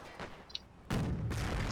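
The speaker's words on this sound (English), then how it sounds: "this Nebelwerfer shoots at this mortar" Nebelwerfer rocket artillery fires at a mortar in a World War II strategy video game, a muffled boom followed by a loud, sustained rushing blast of launch and impact noise, with no voices.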